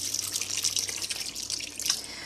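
Cold water poured over blanched home-grown okra to stop the cooking, a steady bright splashing and trickling stream of moderate loudness running for a couple of seconds with no talk.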